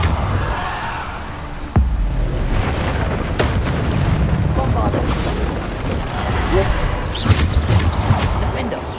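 Bombarda explosion spells from Hogwarts Legacy going off in a loud, continuous barrage of booms and bursts during combat, with someone talking over the din.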